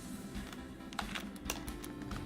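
Rapid, irregular keystrokes on a computer keyboard, a quiet run of light clicks with a few sharper taps, close by over a low steady room hum.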